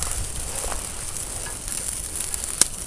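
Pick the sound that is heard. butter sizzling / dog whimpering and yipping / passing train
butter sizzling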